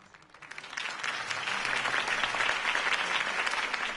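Crowd applause in a Batman video game on PS4 swells after a quiet start into steady, dense clapping that holds loud and sustained to the end.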